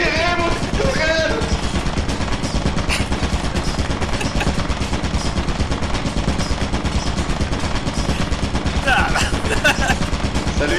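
Rapid turret gunfire in a video game, a dense, loud, unbroken automatic clatter that runs the whole time, with brief voices or effects rising over it near the start and again toward the end.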